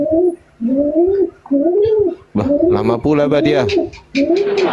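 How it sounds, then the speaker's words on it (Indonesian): A pigeon coos repeatedly in low, rolling calls, loud and close, while someone talks over and between the coos. "Itu burung merpati dimatikan dulu itu."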